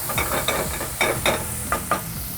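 Roughly chopped shallots dropped into a hot Le Creuset pot for braised duck with root vegetables, giving a steady, loud, close sizzle broken by small stirring knocks and clatters, no voices.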